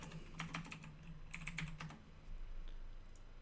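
Quick bursts of keystrokes on a computer keyboard, typed into a web browser search, a few clustered clicks then a pause and another short run, close and clear over a low hum.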